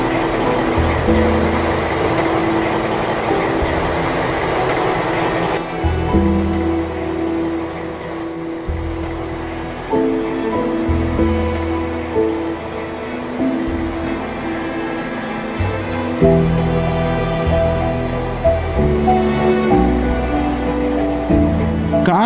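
A miniature KA220 train runs along its track in a model recreation of the 1987 Bintaro rail disaster, giving a steady mechanical rumble with changing tones throughout.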